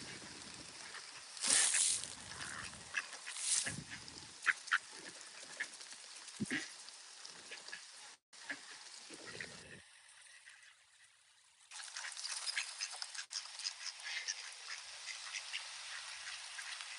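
Ducks quacking, including ducklings, in repeated bursts at moderate distance over a steady wet background patter, with a brief quieter gap midway before the outdoor noise returns.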